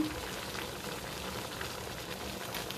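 Ginataang labong, bamboo shoots in coconut milk with saluyot leaves and shrimp, simmering in a pot, a steady close bubbling fizz without pause.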